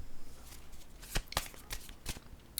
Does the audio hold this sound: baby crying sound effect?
no